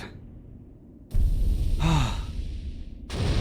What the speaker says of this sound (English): I was breathing so hard